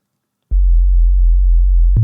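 A deep, sustained bass synth sample with reverb, in the key of F, drones steadily for about a second and a half, starting abruptly after silence.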